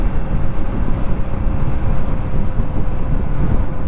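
Wind roaring past a 2018 BMW K1600 Grand America motorcycle at road speed, a dense, loud buffeting rush with engine drone beneath, steady throughout with no talk.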